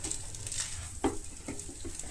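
Egg fried rice is stirred in a hot pan, giving a quiet, steady sizzle with a few soft scraping strokes and one sharper clink of the utensil against the pan.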